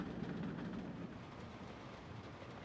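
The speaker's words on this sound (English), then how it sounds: "we've got hooked up with a construction train here" A construction train in Workers & Resources: Soviet Republic rolls along the track, a soft rumbling rail clatter at moderate distance with a faint rhythmic rattle, fairly quiet and continuous, no talking.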